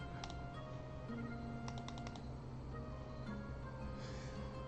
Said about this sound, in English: Let me zoom this up so y'all can see what I'm typing